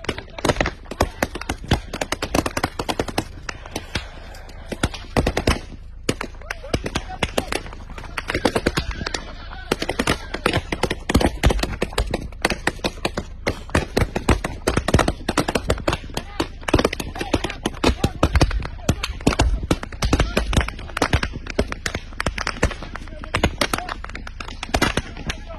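Rapid bursts of gunfire crackle almost continuously through an attack on a Burkinabe military camp, dense and loud with overlapping shots and no pause.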